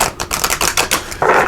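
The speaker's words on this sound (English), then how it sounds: "So just give it one more shuffle here." Tarot cards shuffle in quick, papery riffles and flutters, loud and close, ending in a longer burst of rustling.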